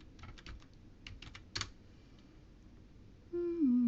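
Password typed on a computer keyboard in a Linux desktop, a short burst of close, crisp key clicks in small clusters, then quiet, followed by a sustained tone at the end.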